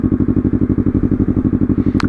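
A motorcycle engine throbs steadily and loudly while being ridden, its rapid even pulses continuous throughout, with a brief high chirp near the end.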